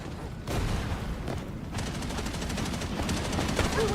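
Rapid bursts of gunfire in a shooter video game, dense and loud with sustained automatic fire throughout, no voices.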